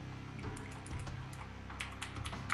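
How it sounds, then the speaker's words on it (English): Fast, steady typing on a computer keyboard during a StarCraft match broadcast, a dense run of light clicks over a low background hum, close and continuous with no talk. "How do you not have that on paste instead of typing it out at this point?"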